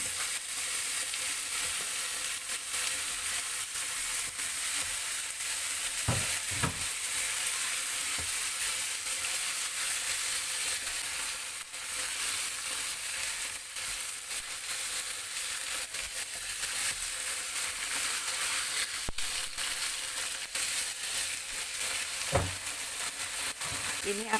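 Meat sizzles steadily in a pan with half-cooked spice paste, a loud continuous frying hiss with a few soft scrapes of stirring, no one talking.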